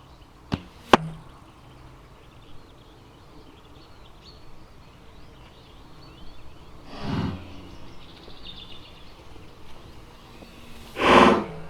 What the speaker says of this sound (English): The first bow we are gonna shoot is the Colombian longbow.